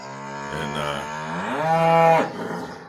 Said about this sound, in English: But she's a sweet cow. She's just boisterous this morning.